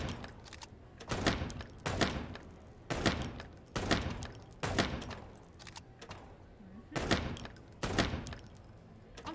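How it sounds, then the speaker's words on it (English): Gunfire in the video game Chicken Police, a series of sharp, loud shots fired at an irregular pace, each followed by a short metallic ring, with no voice over them. "Shoot the bad guys."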